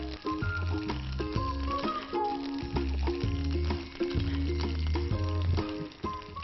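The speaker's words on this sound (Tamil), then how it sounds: "ஃபர்ஸ்ட் கடுகு அண்ட் உளுத்தம் பருப்பு போட்டு தாளிச்சிருக்கோம்" Mustard seeds and urad dal sizzle while tempering in hot oil in a Tamil cooking show. A steady crackle runs throughout, partly masked by loud rhythmic background music.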